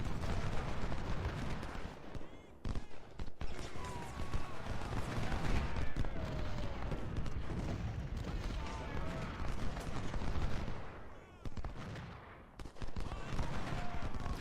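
Skirmishers in the Civil War strategy game Ultimate General: Civil War trade dense, crackling rifle and musket fire, with overlapping shots and rumbling volleys that continue steadily throughout.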